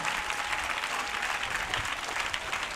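Children at a church convention applaud and cheer in a sustained, dense burst of clapping that carries evenly from start to finish, with crowd voices mixed in.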